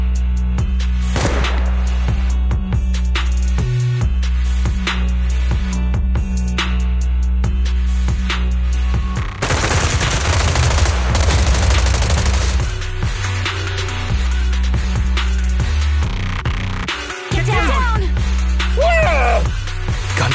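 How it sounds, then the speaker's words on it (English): Suppressive marching gunfire in Zenless Zone Zero: loud, sustained automatic bursts and volleys crackle densely over a constant game music bed, intensifying in the middle with overlapping shots and scattered sharp reports. "Gunfire? This pattern. Suppressive marching fire."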